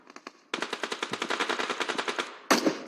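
Rapid close bursts of gunfire from a PUBG Mobile match with DBS shotguns, a few scattered shots and then a long, steady string of evenly spaced blasts ending in a louder shot.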